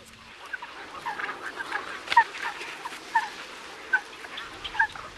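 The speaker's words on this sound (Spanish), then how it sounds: "Son muy numerosos los ánsares que pasan aquí el otoño y el invierno" Geese calling at the Villafáfila lagoons, a steady chorus of honking from a sizeable flock at moderate distance, with sharper single calls standing out every second or so over a soft outdoor background.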